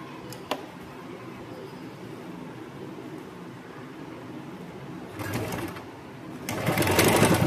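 A sewing machine stitches the folded-back shoulder seam of an A-line kurti: a brief whirring run, a pause, then a longer, louder burst of stitching near the end, with no talk.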